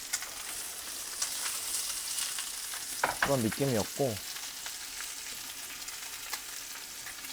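Sausages sizzling in a frying pan, a steady broadband crackle running throughout, with a short burst of speech briefly over it partway through.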